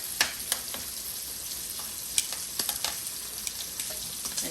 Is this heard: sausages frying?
yes